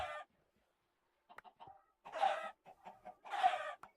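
Chickens cluck in the Cubeland video game: a short burst at the start, a faint flutter of clucks, then two louder, fuller clucking bursts near the end, with quiet gaps between and no talk.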